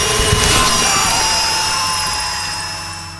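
A power drill whirs in a tense Silent Hill: Homecoming cutscene, wielded against the player character. The loud, steady mechanical whine opens with a rough grinding burst, then sustains and slowly fades over a few seconds.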